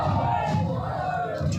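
A dense crowd roars and shouts continuously at a candidates' nomination-filing rally in Mauganj, a loud, steady wall of voices with scattered cheers and yells.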